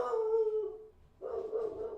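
A dog howls in two long, wavering, mournful bursts with a short gap between them, moderately close and alone without talk.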